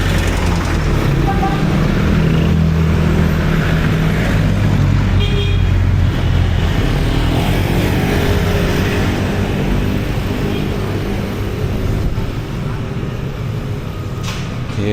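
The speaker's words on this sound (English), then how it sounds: "Traffic, heavy traffic." Heavy road traffic rumbles through Angeles City near roadwork, a dense steady wash of engines with occasional car horn toots, loud and continuous, while someone talks over it.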